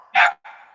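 A small white female dog, two years old, gives a sharp, close bark followed by a shorter, thinner yip, loud and alone.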